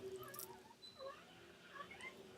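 Cats making a brief, faint caterwauling meow or two in a home kitchen, quiet and somewhat distant, with light household noise around them and no talking.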